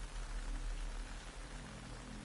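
Rain pours steadily in the video game Metal Gear Solid Delta, a close, dense patter with a low rumble underneath and no voices.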